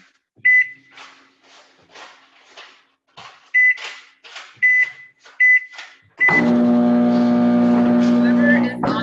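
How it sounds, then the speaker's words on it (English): A microwave oven runs in a call participant's background, a steady loud hum with tonal bands starting partway in, after intermittent beeps and bursts of speech. "whoever is on their microwave right now, Please mute."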